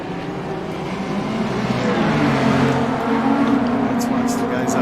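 GT3 race cars at Spa in a racing video game roar together in a dense, continuous engine drone that builds in loudness, with a voice talking over it.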